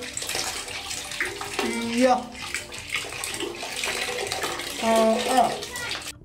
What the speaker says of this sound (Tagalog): maitim na tubig na lumalabas mula sa kanilang gripo